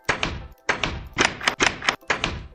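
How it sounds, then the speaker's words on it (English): Wooden doors being placed in a survival building video game, a series of five hollow thunks in quick uneven clusters, close and fairly loud with short silences between. "Put our doors on from the outside."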